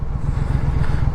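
A motorcycle tears along at high speed, above 140, with a loud, steady low engine roar and rushing wind.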